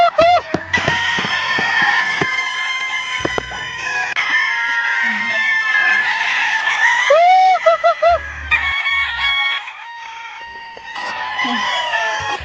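Farm chickens cluck and crow in a rural Shaanxi yard while being fed gourds, with busy overlapping calls, clucks and a rooster crow, loud and near throughout.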